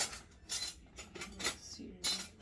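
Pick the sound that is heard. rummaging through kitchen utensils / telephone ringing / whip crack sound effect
rummaging through kitchen utensils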